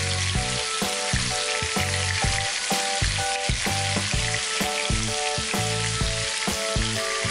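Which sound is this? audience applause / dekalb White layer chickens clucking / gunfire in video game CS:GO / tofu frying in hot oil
tofu frying in hot oil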